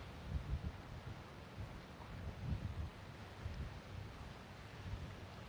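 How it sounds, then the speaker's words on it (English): Steady wind gusts across rough open water on Corpus Christi Bay at about 14 mph, a continuous broadband rush with low rumbling buffets on the microphone and slow surges, no voices. "We got about a 14-mile-an-hour wind."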